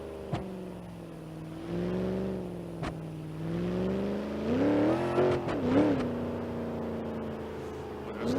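A car in BeamNG.drive, a modified granny cart running nitrous, accelerates with a steady engine drone that climbs and surges in pitch, loud and close throughout.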